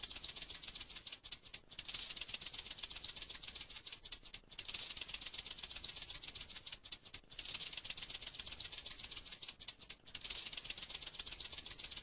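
A sustained snake-like rattle as a sound effect for a white powder reacting with oxygen buzzes loudly and evenly, with brief dips every few seconds before resuming.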